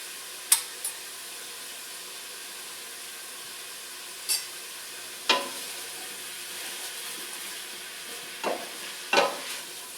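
Faux chicken curry pho with black pepper cooking in a pan, a soft continuous sizzle with a few sharp stirring scrapes and clinks spaced apart, close and fairly quiet, with no talking.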